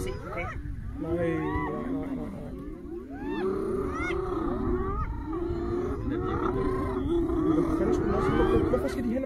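A lion roars and growls at the scene of an attack on its prey, with excited people talking and exclaiming over it throughout, fairly loud and continuous.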